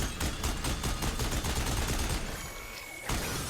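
Rapid automatic gunfire rattles in Horizon Forbidden West: Burning Shores, dense repeated shots in a fast rhythm, loud and close, breaking off briefly before another burst begins.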